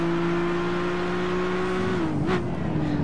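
Race car engine in Gran Turismo 5 holding a steady loud drone, then dipping and rising through a gear change near the end, continuous and close with no talk.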